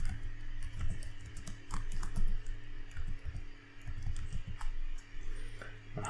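Computer keyboard keys tapped in irregular bursts of typing, close and clear over a steady low hum, with short pauses between runs of clicks.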